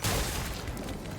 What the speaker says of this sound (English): A blinding light and a deafening explosion assaulted the crab's shell.